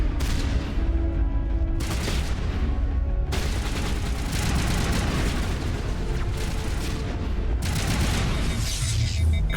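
Sniper rifle fire from the video game Mass Effect, with several loud, close booming shots in separate bursts, each trailing into a rumble; no talking.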